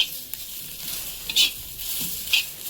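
Ground masala paste roasting in a pan over a hot fire, a soft steady sizzle broken by a few sharp scrapes and clinks of a stirring spoon against the pan.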